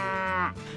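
A cow on a farm gives a single, loud, close moo, a low, tonal bellow that rises, then breaks off, with no voices.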